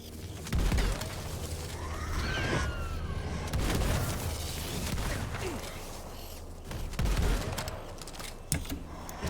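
Gunfire from a gun in a video game, with bursts of rapid shots and heavier booming blasts recurring through a busy, steady mix of in-game sounds.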